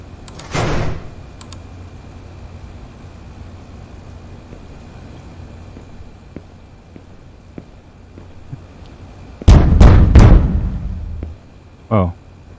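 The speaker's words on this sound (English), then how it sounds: "Close the door." A door closes in a video game, with a loud thud and rattle landing late after a quiet stretch, a short sliding scrape near the start, and a brief mechanical clunk just after the main hit.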